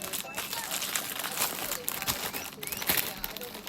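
A 7-Eleven hamburger wrapper being opened in Japan, its paper crinkling and rustling in dense close bursts throughout, with a person talking over the handling.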